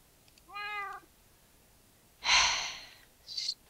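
A Minecraft cat gives a short, clear meow, followed about a second and a half later by a breathy hiss-like burst and a brief tail-off, alone and close.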